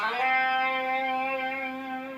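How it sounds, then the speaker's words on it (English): A single electric guitar note slides up into the 5th fret of the G string and then sustains cleanly, ringing alone and fairly quietly. "We're sliding into the 5th fret of the G."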